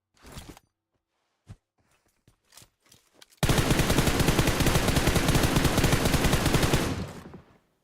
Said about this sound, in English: Wanko did give some shots there